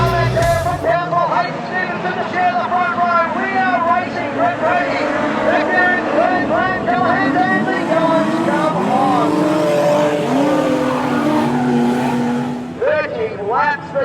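Modified sedans race at Cairns Speedway, loud engines roaring and rising and falling in pitch as cars pass close, with a commentator speaking over them throughout.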